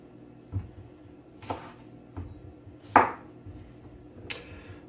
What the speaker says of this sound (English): I'm not going to bore you with cutting all of these cucumbers